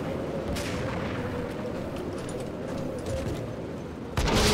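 Gunfire in the video game Max Payne, during the final boss fight, a dense continuous barrage of loud shots rumbling throughout, with a sharper louder burst near the end.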